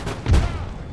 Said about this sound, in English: That cannon volley goes a little bit wide right